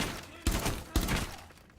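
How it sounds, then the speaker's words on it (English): Two sharp gunshots fired through a bed in the video game Rainbow Six Siege, spaced about half a second apart, loud and punchy over quiet game ambience. "Just one step to the side, and I shoot them through the bed"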